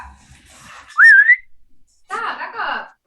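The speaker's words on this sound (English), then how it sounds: "Give him the old whistle" A single person whistles a short rising tune, loud and close, followed by a burst of voices talking over one another.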